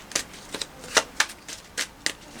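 Tarot cards being shuffled by hand, a series of crisp, papery riffling bursts in an irregular rhythm, close and clear against a quiet background.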